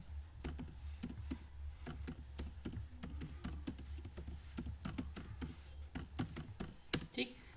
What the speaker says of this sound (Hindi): वो ईमेल आईडी यहाँ पर आप टाइप करेंगे।